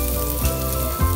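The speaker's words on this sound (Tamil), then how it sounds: "இதுக்கு ஒரு panல 1 டேபிள்ஸ்பூன் அளவுக்கு எண்ணெய் விட்டுட்டு பொடியா நறுக்குன இஞ்சி பூண்டு சேர்த்துட்டு 1 நிமிஷத்துக்கு ஃபுல் ஃப்ளேம்ல வச்சு நல்லா வதக்கிக்கோங்க." Finely chopped ginger and garlic sizzle in about a tablespoon of hot oil in a pan over full flame, a short, steady, close frying hiss.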